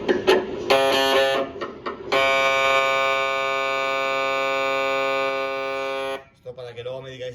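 A medical imaging scanner runs an acquisition, starting with short stuttering electronic beeps and then settling into a loud, steady, harmonic buzzing tone that holds for several seconds before cutting off. A voice speaks briefly at the end.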